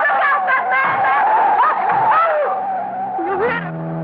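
Tires squeal in long, wavering shrieks as a car skids around a curve, loud and close, the pitch sliding up and down for several seconds.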